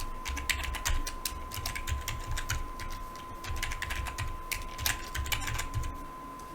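Fast, continuous typing on a computer keyboard entering a password during a PostgreSQL install on Windows, dense clattering keystrokes close up over a steady faint electronic tone.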